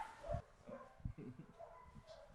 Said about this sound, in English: So we've got lots of dogs, all shapes